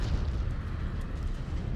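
Missile explosions in the mech combat game MechWarrior 5 Clans form a dense, continuous low rumble of booming blasts, heavy and steady throughout with no clear gaps.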